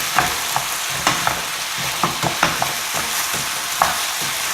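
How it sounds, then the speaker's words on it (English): Spiced mince sizzles steadily in a hot pan for a keto crack slaw, a loud continuous frying hiss broken by scattered clicks and taps of stirring. "So the mince is all sort of kind of cooking up here."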